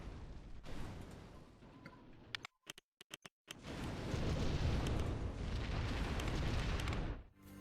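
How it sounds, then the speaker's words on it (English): In Rollercoaster Tycoon 3, a park attraction blows up when tested. A loud rumbling explosion follows a few sharp bursts and brief silent gaps, then a sustained roar fades out. "whenever you test it, it just explodes"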